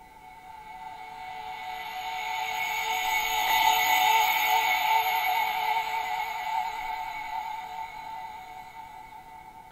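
A sample tuned to F sharp with LFO vibrato and a filter opening on the rising part swells slowly to a bright peak midway and fades again, a sustained wavering synth tone alone.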